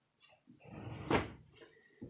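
A door is swung shut indoors, with a short rustle of movement building into one soft, muffled thud of the door meeting its frame, followed by quiet room sound and a faint knock at the end.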